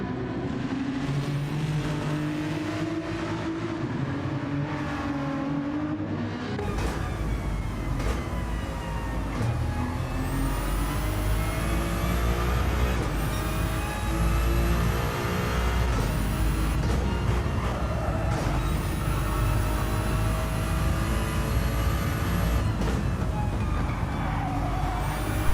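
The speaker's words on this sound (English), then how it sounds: "That beautiful sound of the newly developed Ferrari, the 296 GT3, is now pushing out the maximum output throughout the Watkins Glen" Ferrari 296 GT3 race car engine at Watkins Glen in Gran Turismo 7, a loud sustained roar with rising and falling pitch through gear changes, steady and close throughout with no talking.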